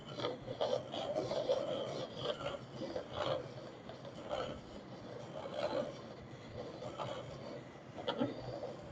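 Steady rasping and rubbing as a drinking gourd is sanded and cleaned out by hand, with repeated scraping strokes in an uneven rhythm, close and moderately loud, no talking.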